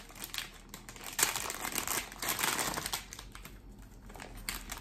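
Thin plastic packaging crinkles and rustles continuously up close as a small pack of thank-you stickers from a nail supply order is handled and opened, with louder crackling bursts throughout.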